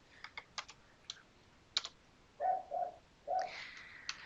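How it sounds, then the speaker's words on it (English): Scattered keyboard clicks while navigating a nursing documentation form: a handful of sharp single key taps, then three heavier presses like the space bar and enter keys, close and quiet with no talking. "I need to use my space bar to actually confirm that that's the one I want displayed."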